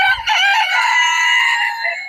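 A chicken gives one loud, close crow, a sustained raspy cock-a-doodle-doo lasting about two seconds after a short low thump, with no talking.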